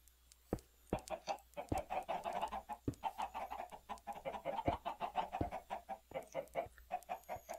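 Chickens in a Minecraft FTB modpack chicken pen cluck continuously in soft, rapid overlapping bursts, punctuated by sharp clicking taps, at a low, fairly distant level.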